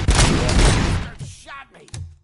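Gunfire rattles in the RoboCop Rogue City video game as a dense burst of loud shots in the first second, then fades to scattered thuds and a brief pained voice.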